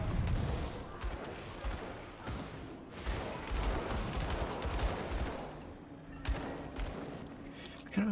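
Gunfire in the dark action RPG Grim Dawn, a dense run of shots and thuds rolling on for several seconds, loud and close, with a low hum under it and game ambience throughout.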